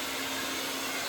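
A handheld hair blow dryer runs steadily at close range, a continuous airy whoosh with a faint low hum, used for heat styling at home.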